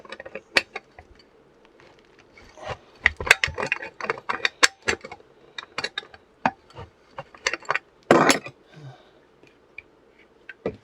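Worn-out, fried bearing in a vintage Delta table saw, ticking and clattering in uneven mechanical bursts as the arbor turns, with sharp irregular clicks close up and one louder grinding rattle near the end.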